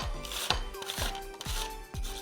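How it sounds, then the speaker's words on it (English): An onion being julienned on a mandolin cutter in a home kitchen: sharp, rhythmic slicing strokes, about five in quick succession, close and fairly loud with no voices. "So what I like to use is a mandolin cutter. So very easy, very quick. I'm going to julienne this onion"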